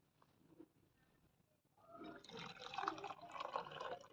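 Tea poured through a strainer into a clay kulhad cup, a quiet trickling and splashing stream that starts after a near-silent pause and grows fuller over a couple of seconds, close by, with no talk.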